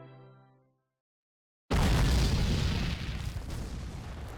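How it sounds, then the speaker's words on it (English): Artillery fire in the Civil War video game History Civil War: Secret Missions, Union cannons pounding Southern ground troops: after a brief fading tone and a moment of silence, a sudden loud boom erupts into sustained rumbling blasts and crackling explosions. "Union artillery decimates Southern ground troops"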